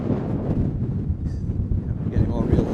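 Gusty wind buffeting the microphone out on a golf course, a loud, steady low roar with rising gusts, with a person speaking faintly underneath.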